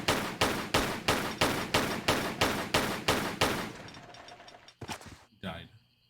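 Rapid steady gunfire in Tomb Raider III, about ten loud evenly spaced shots in a row that stop abruptly, leaving a few softer scattered thuds.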